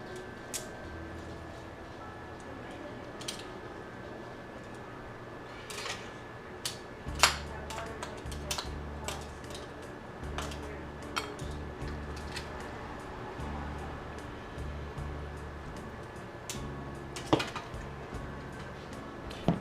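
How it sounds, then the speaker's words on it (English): Metal utensils tap and clink against dishes while linguine with clams is plated, giving scattered sharp clicks over a low steady background hum. "Now we're just gonna plate it and call it a day."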